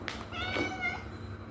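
A kitten meows in a few short, high, wavering cries close by over a quiet room background, one after another within a second or so.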